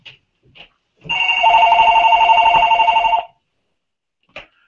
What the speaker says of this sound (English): why does the phone ring every time I'm doing a video?